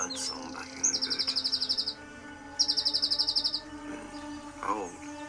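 Birdsong from a Doctor Who episode, with two rapid trilling bursts of chirps and some shorter calls over a low background hum, plus a brief voice near the end.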